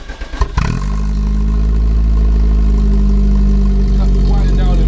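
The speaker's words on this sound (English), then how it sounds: "You just need to start up and let it idle" A 1994 Volkswagen T4 camper van engine catches with a brief clatter and then settles into a steady, loud, even idle that continues to the end.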